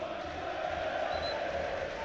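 Aldershot Town fans at an FA Cup match away at Swindon Town, a distant, steady crowd roar of cheering and chanting that holds at an even level throughout.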